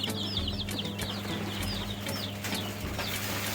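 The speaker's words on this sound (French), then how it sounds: "Ce sont des poussins Goliath qui sont en démarrage." Young Goliath chicks on a farm cheep in a dense chorus of high, rapid peeps, continuous and close, over a steady low mechanical hum.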